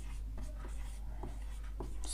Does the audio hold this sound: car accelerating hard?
no